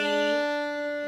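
A beginner-lesson fiddle sustains a single bowed note with the first finger placed on the D string, one smooth steady tone, close and moderately quiet, fading slightly toward the end.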